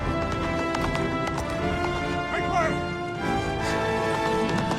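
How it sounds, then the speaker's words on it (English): A horse gallops at full speed with fast, steady clip-clop hoofbeats through narrow city streets of Minas Tirith, Gandalf riding, close and loud under swelling music. "riding full speed through the kingdom streets that are that narrow on a horse"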